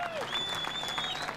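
Large crowd of Ferrari fans applauding and cheering at the podium of the 2003 Canadian Grand Prix, a dense, steady wash of clapping with a few whistles rising above it.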